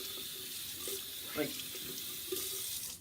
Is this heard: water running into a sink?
yes